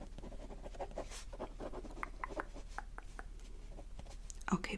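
Pen scratching out a name onto a guest list in a close, quiet ASMR setting, with soft continuous strokes and short scribbles under faint whispered talk.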